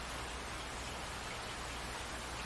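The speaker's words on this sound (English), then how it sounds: "The rain is near horizontal, and a gale forces its way past my carefully contrived layers of clothing." Driving, near-horizontal rain lashed by a gale, a dense steady hiss of wind-blown rain with low rumbling gusts, continuous and close with no voices.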